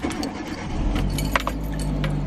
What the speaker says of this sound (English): let me start my car.